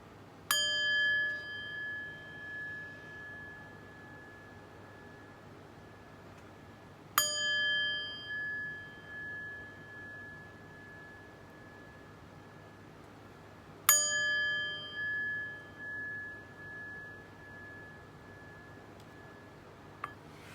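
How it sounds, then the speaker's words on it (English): Three bright metallic chime strikes ring out at even intervals of roughly seven seconds, each sustaining and slowly fading before the next, struck to open a tarot reading in a quiet room. "But first, let's chime."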